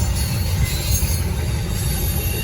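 A Norfolk Southern freight train rolls past close by, a loud continuous rumble of wheels and rail cars with hissing, grinding texture and no break in the noise.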